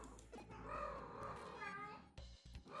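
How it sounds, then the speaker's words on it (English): A house cat meowing, a drawn-out, wavering cry lasting a couple of seconds, faint and somewhat distant, with a brief pause and softer sounds after. "Got an annoying cat who's appeared to have started being annoying"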